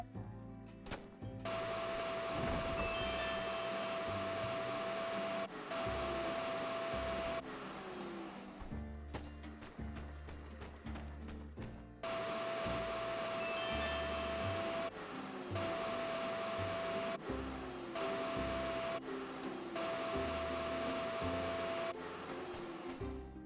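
A vacuum cleaner from the video game My Time at Sandrock drones loudly in long steady bursts, cutting out abruptly a few times before starting up again, with a tonal whine riding over its broadband roar.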